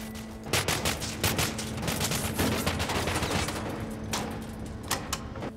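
Bursts of gunfire from standard shooter weapons in the video game Cryostasis, with rapid loud cracks in clusters over a steady background hum and no talking.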